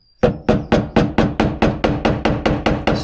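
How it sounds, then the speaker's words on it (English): A rubber mallet striking a big flat-head screwdriver to tap a snap ring off a Toyota Supra part, thirteen sharp, close knocks in a steady even rhythm, loud with no talk. "I'm starting to tap the snap ring away"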